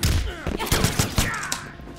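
Rapid bursts of machine gun fire from Jacqui in Mortal Kombat X, a fighting video game, crackling in several quick volleys over game effects.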